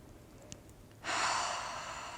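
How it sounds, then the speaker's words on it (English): A long, deep breath pushed out through the mouth or nose during a yoga session, one steady breathy exhale lasting over a second, close and soft, with no talking. "Last deep inhale and exhale."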